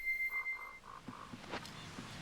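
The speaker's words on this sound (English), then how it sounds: "There's another frog." Repeated short croaks from a frog in The Legend of Zelda: Majora's Mask on the Nintendo 64, set in the southern swamp; a quick run of low, moderate calls over light game ambience, with no one talking.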